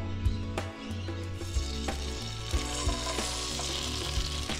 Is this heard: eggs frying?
yes